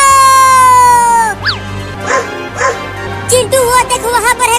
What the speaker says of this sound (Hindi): अरे बाप रे, ये कुत्ता तो बहुत ही बड़ा और खतरनाक